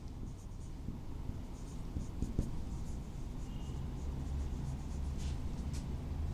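Chalk or marker scratching across a board in a classroom chemistry lesson on complex compounds, a steady run of close, moderate writing strokes with a few sharper taps over faint room hum.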